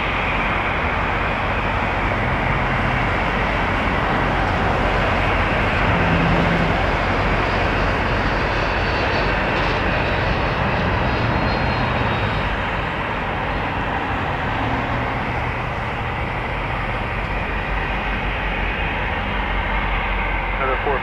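A Bombardier Challenger business jet passes overhead near Toronto Pearson Airport, its engine roar a loud, steady broadband rumble filling the whole stretch without a break.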